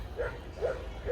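A small dog gives three short, high yaps spaced evenly apart, fairly close, over a low background hum.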